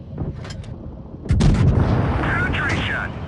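A Pz IV A tank's cannon fires in a tier 3 tank video game: a sharp, heavy boom that cuts in abruptly and rings out into a sustained rumbling tail, preceded by faint engine and clicking sounds.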